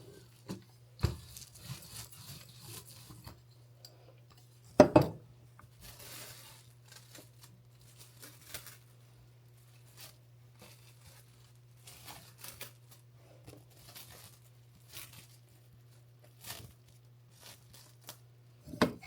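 A rolling pin presses pie dough for an apple pie flat between sheets of cling wrap, giving quiet, scattered crinkling and rustling with a few sharper plastic crackles against low background hum.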